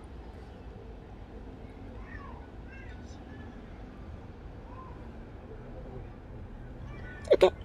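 A cat meows outdoors on a street walk in Deptford, a brief, fairly close call near the end over steady background noise and quiet talk.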